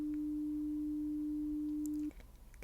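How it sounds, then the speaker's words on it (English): A steady pure 300 hertz hearing-test tone holds unwavering for about two seconds, then cuts off cleanly into near silence. "So this is 300 hertz."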